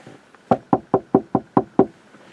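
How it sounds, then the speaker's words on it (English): Seven sharp knocks on a car window in a quick, steady rhythm, close and loud, with no talking. "Knocks on my car window"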